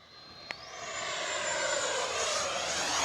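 An E-flite F-16 Thunderbirds 70mm electric ducted-fan RC jet flies past at about half throttle, its steady whooshing whine swelling louder and nearer as it banks through a turn, with a brief click near the start.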